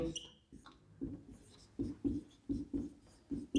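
Chalk or marker strokes scratch and tap on a board in a classroom lesson about generator losses, coming in short rhythmic bursts close by, with brief pauses between words being written.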